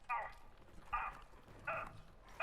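A dog enemy in the Helldivers video game gives four short, sharp barks spaced about half a second apart, clear against a quiet background with some voice underneath.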